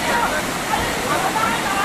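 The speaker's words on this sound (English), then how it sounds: "The water is still very large and fierce." Swollen river floodwater during typhoon flooding in Guangdong rushes in a loud, continuous roar, a broad hiss of churning water with voices over it.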